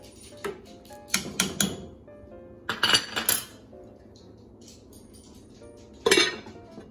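Clinking of a 5-quart Dutch oven being handled, a few separate bright metallic knocks and clanks spaced out over several seconds, close by with quiet gaps between them.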